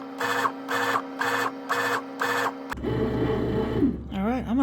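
A bread machine mixes burger bun dough in evenly spaced mechanical whirring pulses, then switches to a rougher continuous churning, loud and close with a voice over the end.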